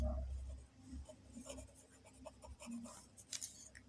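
Pen scratching across paper while writing out chemical reactants, light intermittent strokes with soft rubbing, quiet and close with a low background hum.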